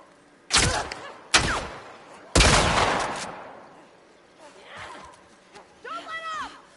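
Gunfire in The Last of Us Part II: three loud, close shots, the last with a long echoing tail, then quieter rustling and faint tonal game sounds while voices speak.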